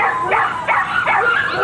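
Dogs rescued from the Gulfport, Mississippi area after Hurricane Georges bark and yelp at an SPCA shelter, three rising, whiny yips standing out over a steady din of kennel noise.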